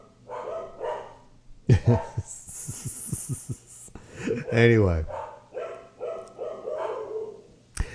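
A dog at a workplace barks and yips in a short burst of sharp, close calls with a whimpering edge, in between stretches of someone talking.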